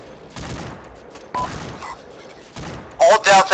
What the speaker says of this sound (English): Copy that, suppressing fire.